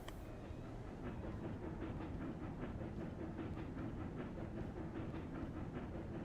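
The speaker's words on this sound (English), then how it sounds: "So this train is just running between here and here" Rumbling train running in the video game Railroad Corporation 2, a faint steady roll with soft rhythmic clickety-clack pulses and light hiss.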